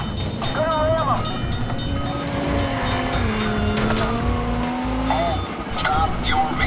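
A car rams a suspect's vehicle during a police chase in the video game Watch Dogs, with a loud engine roar, squealing tires and a rising motor whine while a voice talks over the action.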